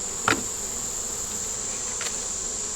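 Honeybees hum around a beehive with a feeder ring, a steady high-pitched buzz that carries the whole moment, broken by two brief soft knocks.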